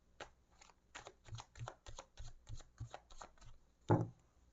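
A Cigano oracle card deck is riffled and shuffled by hand in a quiet room, with a steady run of soft papery flutters and a sharper final snap as the cards come together.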